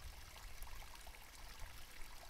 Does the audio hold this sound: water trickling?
yes